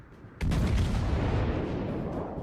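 A single heavy naval turret salvo from a World of Warships battle goes off as one loud, deep boom and rolls on as a long, sustained rumble.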